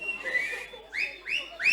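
Several sharp rising whistles come from an audience at a Lavani dance performance, repeating in quick succession, loud and near over a murmuring crowd.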